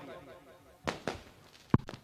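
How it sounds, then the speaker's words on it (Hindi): Firecrackers burst at a celebration, several sharp bangs in close succession over crowd noise and talk. "ए पटाखा का धूम धड़ाका"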